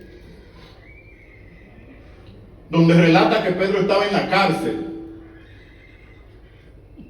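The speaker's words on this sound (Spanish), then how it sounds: "Hay un caballo que se soltó por ahí" A loose horse lets out one loud, shaky whinny lasting about two seconds that rises, wavers and fades, heard close by during a church service, with a voice speaking before and after.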